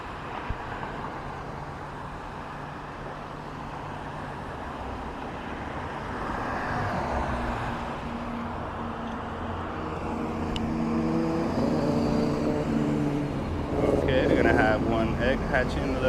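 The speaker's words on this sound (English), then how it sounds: "Just gotta wait for the light to change. Traffic is a little heavy." Heavy road traffic idling and rolling near a traffic light, a continuous engine rumble that swells as vehicles pass and accelerate close by, with someone talking over it.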